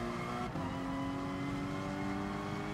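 Simulated race car engine in GT Sport holding a steady high drone with layered harmonic whine, loud and continuous throughout, a brief dip near the start as revs shift.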